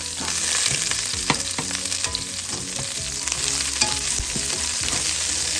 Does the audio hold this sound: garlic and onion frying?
yes